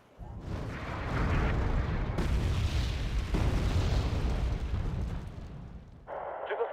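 Naval weapons fire and explosions in Wargame: Red Dragon, a dense, sustained roar of blasts and booming detonations, loud and continuous for several seconds before briefly dropping and giving way to a higher, thinner sound at the end.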